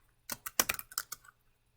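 Quick, light keystrokes on a computer keyboard while entering a name in Microsoft Teams, about eight close, crisp clicks in a short irregular burst, then silence.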